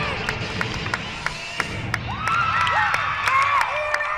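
Crowd cheering and whooping at the Xfinity Center during a West Virginia at Maryland gymnastics meet, a loud roar that swells in the second half with high whistles and scattered claps cutting through.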